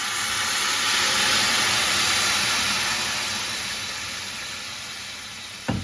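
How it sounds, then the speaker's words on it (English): A loud, steady sizzle and hiss as red wine hits a hot pan used for searing filet mignon, the burst of steam holding strong then slowly easing off. "we're gonna add in about a half a cup of red wine"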